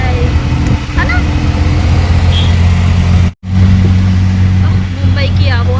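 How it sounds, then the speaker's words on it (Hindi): Steady drone of Mumbai street traffic, engines and passing vehicles rumbling close by with faint horn-like tones, a brief dropout midway, and a voice talking over the din. "मुंबई की आबो हवा, मुंबई का ये ट्रैफिक"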